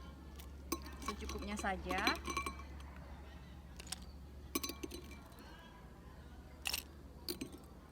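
Ice cubes clink into a glass in short, bright, scattered knocks for an iced milk drink being made, with someone speaking softly between them.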